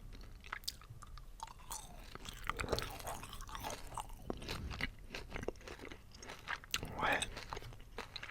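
Close, crisp chewing of a yellow halal gummy candy, with wet squishing bites and small crunches repeating irregularly, while a voice speaks briefly under the mouth sounds.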